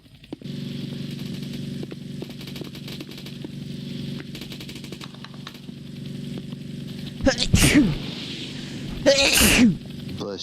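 Two sharp, close sneezes burst out a couple of seconds apart over a steady low engine-like hum, with quiet talk in the background.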